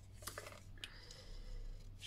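Scissors snip through a paper strip for a woven basket, a few quick close cuts sounding over a low steady background hum.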